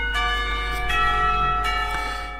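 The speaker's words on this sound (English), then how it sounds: "The moment the bell rings out, a collective sigh of relief comes from everybody." A school bell rings in the visual novel Katawa Shoujo, sustained, clear metallic tones with several fresh strikes layered over a steady low hum, close and fairly loud with no talking.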